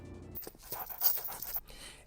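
A pit bull in the animated short Kitbull pants in quick, breathy rhythmic puffs, close and fairly soft, over roughly two seconds.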